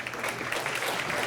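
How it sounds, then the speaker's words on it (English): Crowd applause at a 9-ball pool match, the US Open 9-Ball Championship semifinal, a short steady burst of clapping filling the room with no talk over it. "A knowledgeable crowd appreciative of that shot."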